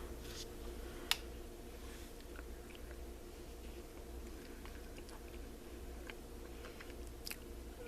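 Someone bites into a lemon drop cookie filled with lemon curd and chews it up close, giving faint crunches and soft mouth sounds over a steady background hiss, with no talking.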